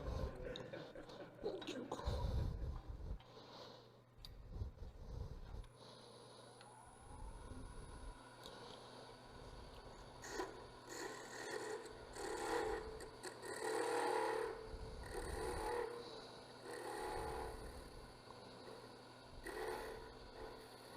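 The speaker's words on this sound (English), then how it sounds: "I'm going to sand all that fuzz off." Sandpaper rubs fuzz off a piece of turned wood held in a lathe chuck, producing a continuous scratchy hiss that swells and eases in uneven strokes, with some low thumps and background noise.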